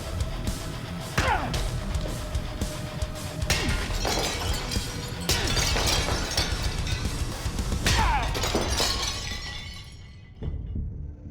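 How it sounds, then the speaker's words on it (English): A forged blade smashes clay pots in a strength test, several sharp crashes in quick succession, each followed by clattering, shattering shards, loud and close, then fading to quiet at the end. "I will be taking them and smashing these pots"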